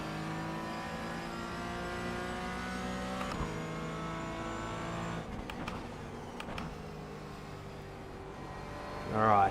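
A Skip Barber race car in iRacing VR at Road Atlanta holds a steady mid-pitched engine drone with shifting tones, then rises into a louder rev toward the end, with no talking.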